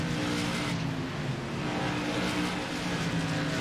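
Modified series race cars roar down the front straightaway of an oval track in an evening race, a dense, steady engine drone from the field that fills the whole stretch with no break.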